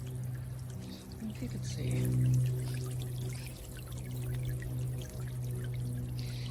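Water streams from an AISITIN DIY solar-powered water pump fountain outdoors, a soft steady pouring trickle with a low pump hum, continuing under a brief spoken remark.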